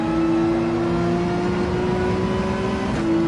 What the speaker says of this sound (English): that AMG is sounding so good